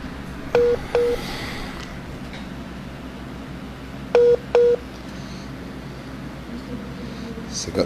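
Telephone keypad tones as a dropped call is redialed: two pairs of short beeps, one pair early and another about four seconds later, over steady room noise and faint background hiss.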